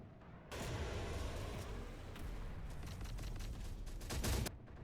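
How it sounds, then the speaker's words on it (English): HIMARS rocket artillery firing in the Terminator Dark Fate Defiance video game: a sudden roaring burst of launch noise that rumbles on for several seconds with crackling blasts, swelling near the end before cutting off. "So the HIMARS is gonna fire, and I'm gonna get a good shot for you guys on this strike."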